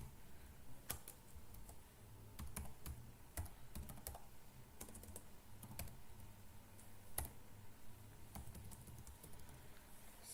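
Fingers type on a computer keyboard in short, irregular bursts of quiet clicks and key taps, with brief pauses between them and no voices.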